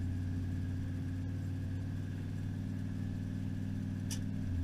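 Vehicle engine running steadily in second gear after a 4L80E transmission swap, a continuous deep drone with steady harmonics, close and fairly loud throughout, with no talk over it.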